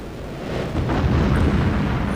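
Ground targets exploding in the F22 Total Air War flight game, a deep continuous rumble that swells into a heavy, sustained roar of blasts, loud and unbroken with no talking.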